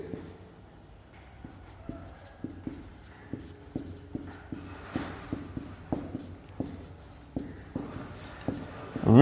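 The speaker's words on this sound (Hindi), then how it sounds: "अब बच्चों आगे हम लोग लिखेंगे कि" Chalk tapping and scraping across a classroom board during a Hindi physics lesson on refractive index, a steady run of short strokes, close and moderately loud, with no talk over it.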